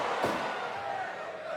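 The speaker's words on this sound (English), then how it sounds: "Effortlessly body slams him." A wrestler body slams an opponent in Fire Pro Wrestling World, a single thudding impact landing early, followed by a faint crowd murmur beneath a commentator's voice.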